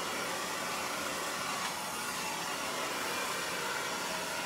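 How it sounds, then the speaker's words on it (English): Hair dryer blowing a section of long layered hair, a steady loud broadband whoosh of rushing air held constant throughout, close and unbroken with no talk. "I love a good blow dry"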